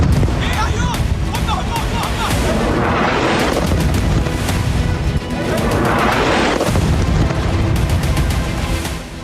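Artillery shelling in southern Gaza, a dense continuous barrage of loud booms and cracking blasts, with two big swelling rumbles building and fading over a steady roar of fire.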